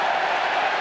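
A football crowd at Elland Road in 1992, during Leeds against Coventry, makes a dense, steady roar of cheering and applause. It is loud and broad, and no single voice stands out in the short burst.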